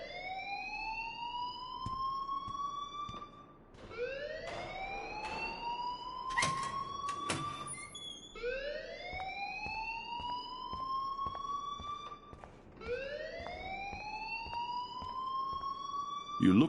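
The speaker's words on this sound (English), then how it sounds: "please turn off that alarm since that's your job" An alarm in the video game Life is Strange wails in repeated rising sweeps, each lasting about four seconds, steady and fairly loud, with a few sharp clicks in between.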